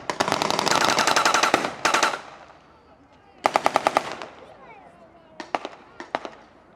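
Rapid bursts of gunfire crackle at a battle re-enactment at Ramsbottom station, a long sustained volley followed by a pause, then a second burst and scattered single shots, loud and fairly close.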